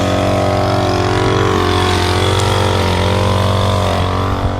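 A lawn mower engine drones steadily at close range, loud and unbroken, with a constant mechanical hum and no voices.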